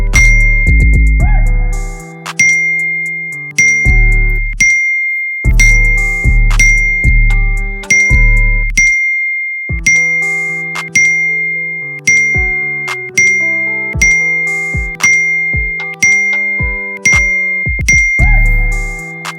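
Download-complete notification chimes from a YouTube thumbnail downloader, bright, loud dings repeating at a regular pace about a dozen times, each ringing out and then decaying.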